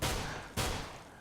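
Two sharp P250 pistol shots from Counter-Strike, heard during a competitive esports match. They are loud and close together, each with a noisy burst and a short decaying tail, and no one speaks.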